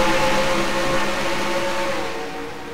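Race cars at Nashville in a Nationwide Series racing video game, a loud steady engine drone with sustained whining tones that slowly fade, and no talk.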